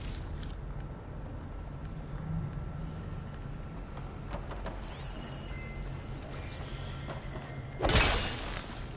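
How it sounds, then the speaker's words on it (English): Glass shatters in Horizon Forbidden West, a sharp, bright crash near the end that follows a quiet stretch of low ambient rumble and faint clicks. "Just broken glass that you smash, get loot."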